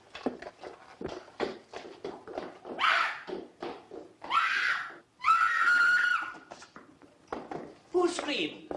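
A woman in a strange house lets out several piercing screams in a 1933 film, the longest a sustained shriek. They are set among hurried dialogue and scattered thumps.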